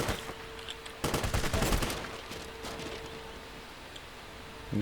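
A burst of gunfire from a pistol in the video game Crysis, rapid loud shots crowding together for about a second, then a lower rumbling game background.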